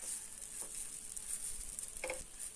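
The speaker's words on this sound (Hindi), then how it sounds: "धीमी आंच पर कुछ देर नारियल को सभी चीजों के साथ भूनना है।" Grated coconut roasting with other ingredients in a pan over a low flame for Ukadiche Modak filling, giving a steady soft sizzle with faint stirring scrapes throughout and a brief louder clink near the end.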